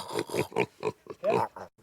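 A piglet on a film set in Morocco grunts and squeals in a run of short, loud, close bursts, about six or seven of them, with brief gaps between.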